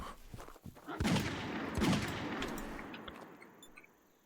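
A couple of gunshots ring out in the survival hunting game Prehistoric Hunt, two distant reports about a second apart, each trailing into a long rolling echo over faint outdoor ambience.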